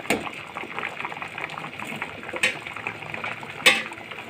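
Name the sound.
chana dal boiling in a pot for halwa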